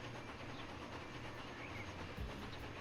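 A cargo train rolls across a bridge in the video game Transport Fever 2, a continuous rumbling clatter with faint rhythmic clicks and a low thump near the end, heard alone.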